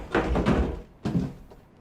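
A door opens in the video game We Happy Few with a pair of heavy wooden thumps and a rattle, the first longer and doubled, the second single a moment later, close and fairly loud with no talk.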